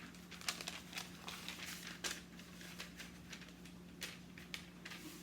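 A sheet for a purse cake is folded in half, giving close, quiet crinkling and crumpling with a few sharper rustles and taps over a low steady hum.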